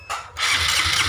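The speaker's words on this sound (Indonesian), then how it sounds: "ketika motor saya hidupkan" A Honda Supra 125 FI motorcycle engine starts with a brief starter whir, then catches into a steady, close mid-pitched idle.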